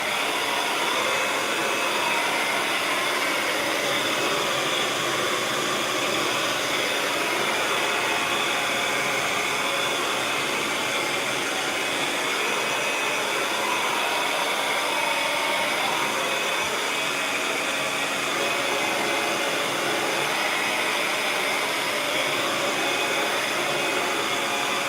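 Hair dryer blowing steadily to dry fresh paint on a canvas, a continuous broadband whoosh running unbroken and fairly loud throughout, with no talking.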